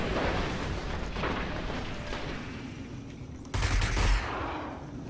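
Gunfire from a gun in the PS4 alpha of Destiny rumbles through a dense, continuous wash of shots and blasts, with a sharper, louder burst standing out near the end.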